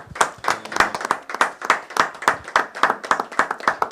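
A church audience claps rhythmically in acclaim of the Lord, a brisk steady beat of many hands close by with no talking.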